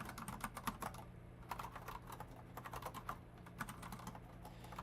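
Someone types steadily on a computer keyboard while coding, the rapid clicking close and continuous with small bursts and pauses. The clicks sound fairly quiet.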